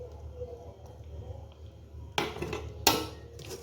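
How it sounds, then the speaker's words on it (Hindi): Spoon scraping and clinking against a metal strainer while plum juice is pressed through, with two sharp clatters standing out over a low background hum. "चम्मच की मदद से इसको अच्छी तरह जो है वो स्ट्रेन कर देना है"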